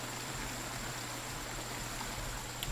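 Steady, even rushing of shallow water as a figure wades through it in the BugOut video game, a continuous wash with no pauses and no voices.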